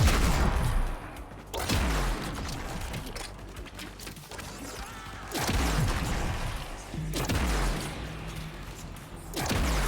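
Rocket launcher fire in the video game Warframe bursts out in heavy, booming volleys with sharp blasts and crashing impacts, loud and close, in three or four separate waves with no talk.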